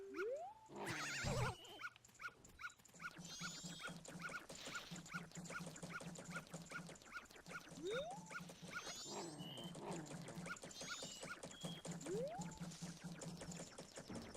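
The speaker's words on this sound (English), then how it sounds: "I know the dog is super annoying." Repeated dog barks and yelps from The Legend of Zelda: Majora's Mask on Wii U, small and tinny, recurring every few seconds over looping game music and chirpy effects.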